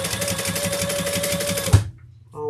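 Sewing machine top stitching, a fast steady close-up whir of needle strokes that runs for nearly two seconds, then stops abruptly with a soft clunk before a faint mechanical hum resumes.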